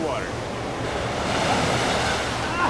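Winter surf on the Pacific Ocean, a steady wash of breaking waves mixed with wind buffeting the microphone. The sound stays moderately loud and continuous for a few seconds.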